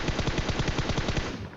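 Automatic gunfire in the mobile game PUBG Mobile rattles off in a rapid, evenly spaced burst of about a dozen loud shots, then stops.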